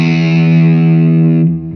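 Open E note on an electric guitar through heavy distortion, one sustained, loud, buzzing tone held for over a second before being cut off abruptly.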